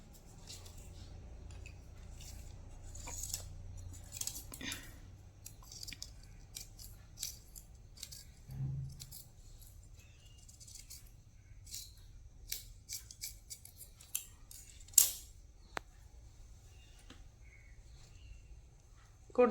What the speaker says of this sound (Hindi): इस तरह से 1 इंच अंदर की ओर राउंड शेप देते हुए हम फ्रंट पार्ट की कटिंग करेंगे